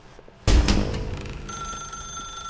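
A telephone in The Stanley Parable starts ringing abruptly with a sharp metallic bell burst that keeps on as a sustained, bright ring, close and alone with no voices.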